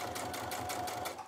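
A sewing machine stitches fabric in a quick, steady mechanical patter, close but fairly soft, with no voices.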